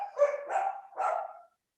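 Dogs barking in three quick, close, fairly loud woofs in a row, then silence.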